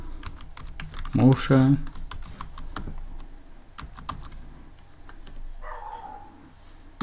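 Steady light tapping on a computer keyboard, soft clustered keystrokes throughout, with a dog's brief bark near the start and a voice speaking briefly.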